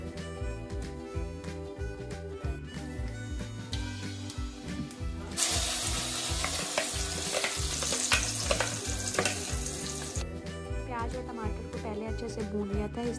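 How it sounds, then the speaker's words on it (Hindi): Tadka, whole spices tempering in hot oil in a pan on an Indian home stove, a steady close sizzle with stirring and clinks, swelling into a louder hiss midway over background music. "और अब इस पैन में मैं लगा दूँगी तड़का।"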